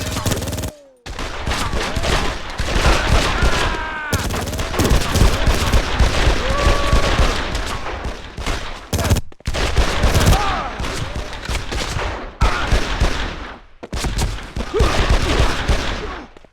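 A PS2 Made Man shootout erupts in loud, rapid bursts of gunfire, with clustered shots and short pauses, dense and close throughout, and game voices shouting amid the shots.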